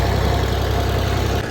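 A tractor engine idles close by in a wheat field just after harvest, a loud steady low chugging drone that holds constant throughout.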